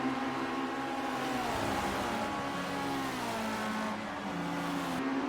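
Race car engines in Project Cars 2 during a Formula Rookie Cup round at the Red Bull Ring on PS4: a loud, continuous high-revving whine with pitch sweeping up and down through gear changes, without any talking.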